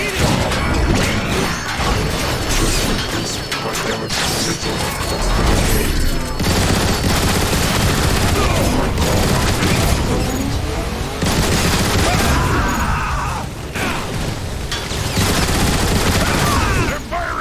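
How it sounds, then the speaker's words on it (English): Sustained gunfire and blasts in a Transformers: War for Cybertron battle, rapid shots and crashes filling the whole stretch at high, steady loudness with faint voices mixed under the din. "They're firing from the windows!"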